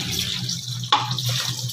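Cooked chowmein noodles are rinsed under cold running water in a kitchen: a steady, close stream of tap water with one sharper splash partway through.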